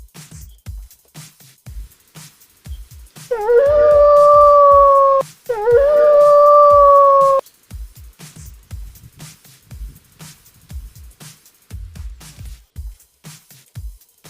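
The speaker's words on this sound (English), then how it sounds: "Fox." A fox gives two long, loud, wavering howls with a brief break between them, heard alone with no talk around them.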